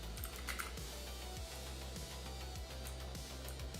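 Rapid, steady clicking of computer keyboard keys typed at pace for a typing game, close and continuous over a low background hum, with no talking.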